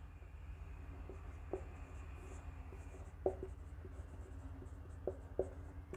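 Chalk taps and scrapes across a classroom board during a chemistry lesson, a few short strokes and knocks in irregular bursts over a quiet, hissy room with no talk.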